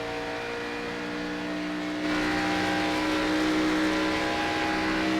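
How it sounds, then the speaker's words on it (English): A race car in a sim racing video game runs with a sustained engine whine and tire squeal, a steady tonal drone that grows louder partway through, with no voices. "You can hear those tires squalling right now."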